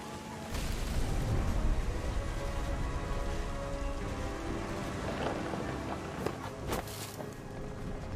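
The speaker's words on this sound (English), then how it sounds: "The thunder sounded much too close and full of angry power." Steady heavy rain hiss with low rumbling thunder runs continuously in the video game What Remains of Edith Finch, a dense wash of noise with a few sharper cracks near the end.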